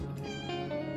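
A cat meows once or twice close by, a short tonal cry with a rising and falling pitch over a faint steady hum.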